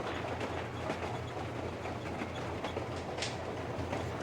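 A moving train in the video game Metro Exodus rumbles and rattles along steadily, a quiet continuous clatter with a brief sharper squeak partway through, and no talk.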